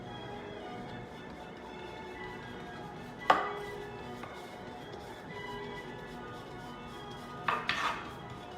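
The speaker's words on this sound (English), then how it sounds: "The brush hitting the painting or the panel." Paintbrush strokes on a painting panel during an art therapy session: two sharp, isolated taps several seconds apart, the second a quick cluster of scrapes, faint against a quiet room hum.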